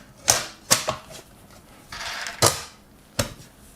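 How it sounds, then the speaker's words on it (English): A media PC case lid being fitted and screwed down: a few sharp clicks and clacks of the panel seating, then a longer scraping slide and two more knocks, close and fairly quiet with no talk. "all we've got to do now is put the lid on"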